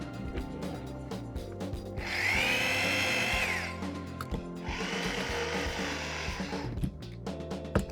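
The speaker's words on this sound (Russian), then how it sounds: "Проще это делать не шпателем, а миксером." An electric drill-mounted mixer stirs thick lime plaster for a marble-effect wall finish, whirring in two sustained bursts of a few seconds each, separated by a short pause, with a low churning scrape from the paste.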